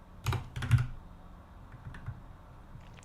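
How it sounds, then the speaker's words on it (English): Lucas types on a computer keyboard nearby in a few short bursts of clicky keystrokes, with quiet pauses between them and no talking. "Lucas typing."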